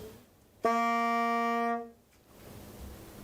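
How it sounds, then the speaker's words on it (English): A tenor saxophone sounds one sustained, reedy C note for about a second before it stops, against a quiet background. "the first note in the C scale is the C"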